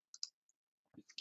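A computer mouse gives a quiet double click, two crisp taps in quick succession, followed a moment later by a few more faint clicks.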